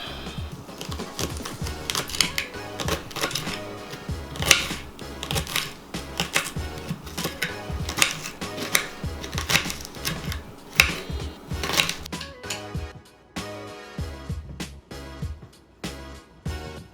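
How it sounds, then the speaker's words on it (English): A knife chops hard vegetables finely on a cutting board in a home kitchen, a fast, close series of sharp taps that pauses briefly and then resumes. "I'm gonna chop these up fine"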